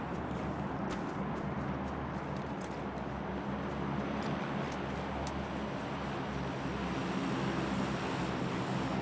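An airplane drones overhead in a video game, a constant engine roar holding steady throughout, with faint clicks and game noises scattered on top.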